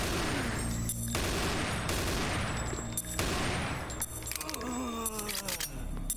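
Rapid pistol gunfire from the Doom 3 video game, a dense run of repeated shots and impacts over continuous game ambience, loud and sustained throughout with no pauses.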